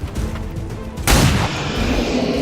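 A heavy pistol shot booms in XCOM 2 combat, one loud sharp blast with a rumbling tail, preceded by low game ambience.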